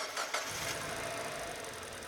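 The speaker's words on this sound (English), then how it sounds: "Start the engine and allow it to idle." A gasoline engine catches and settles into a steady idle, a brief start-up burst followed by continuous, even running noise close to the microphone.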